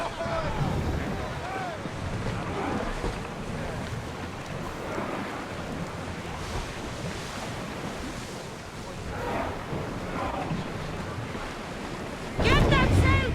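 A sailing ship moves across the sea in Assassin's Creed Odyssey, with steady wind, rushing waves and hull wash throughout and voices calling out over the water. The sound grows louder near the end.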